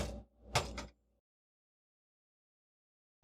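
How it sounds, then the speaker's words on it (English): A door aboard a submarine slides open with a rumbling scrape and a sharp metallic clack, close and brief, followed by near silence. "I'm going to open up this door actually."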